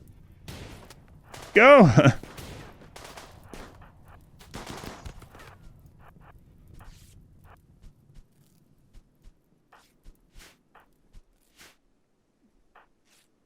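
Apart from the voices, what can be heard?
gunfire from the video game RimWorld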